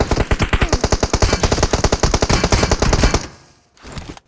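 Automatic gunfire rips out in PUBG, a long, loud, rapid burst lasting about three seconds before dropping off, followed by a shorter distant-sounding burst.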